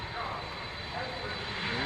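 Lockheed TriStar jet airliner making a fly-through, a sustained loud engine roar with a steady high whine throughout.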